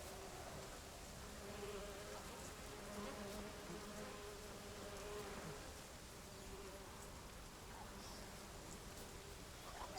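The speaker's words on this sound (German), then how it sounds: "Sah jetzt kurz aus, als ob das ein böser Mückenschwarm wäre." A mosquito swarm in The Witcher 3 drones as a faint, steady insect buzz that holds without a break for the whole stretch.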